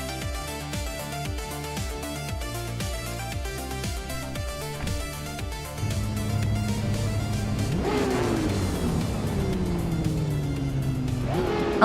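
Several race cars roar off the line at a race start in a video game, a 2015 Chevrolet Corvette C7 GTE leading, with rapid rhythmic engine pulses, then loud overlapping revs and swooping passes close by.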